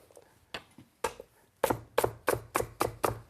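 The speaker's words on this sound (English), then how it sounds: "we're going to chop them up, rough chop" A knife rough-chops parsnip, carrots and washed leek tops on a board, close and crisp: a few spaced strikes that speed up into a steady run of about eight firm, rhythmic chops.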